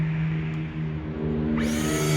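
A Lokithor JPD400 jump starter's built-in air compressor, switched to vacuum mode, hums steadily up close with a constant low drone and buzzy harmonics, rising slightly in pitch and intensity partway through.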